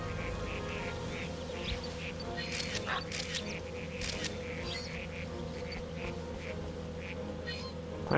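A Pokemon quacks in New Pokemon Snap, several short duck-like calls over layered background music and ambience, with a few clicks and a camera-shutter-like snap mixed in.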